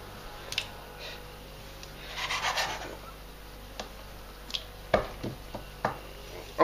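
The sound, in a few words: cutting food for pasta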